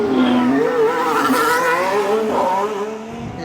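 Formula 1 cars roar past on the Bahrain Grand Prix circuit during a practice session, engines whining at high pitch and rising and falling as they pass at a moderate distance from the grandstand.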